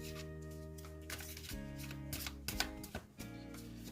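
Tarot cards being shuffled and drawn during a Hindi tarot reading: soft, quiet papery slaps and flicks in a short irregular run, heard over sustained background music.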